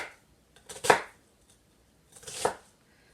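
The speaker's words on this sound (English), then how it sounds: "I'm not going to cut through, and just give them a chop like that" Sharp knife chopping cabbage for coleslaw on a cutting board, two distinct crisp chops spaced well apart, close and clear with quiet between.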